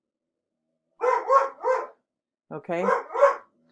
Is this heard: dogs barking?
yes